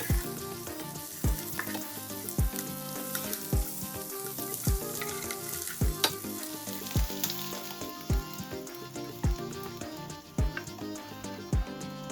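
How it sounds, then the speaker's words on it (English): Boiled eggs coated in turmeric and chili powder fry in hot oil. A steady close sizzle continues throughout, broken by regular low thumps. A faint high hiss joins partway through. "Fry for 3 to 4 minutes on both sides until golden brown."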